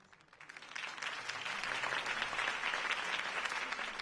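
Crowd applause at a campaign speech for Harvey Dent in Batman: The Telltale Series, a dense steady clapping that swells in over the first second and holds loud and even.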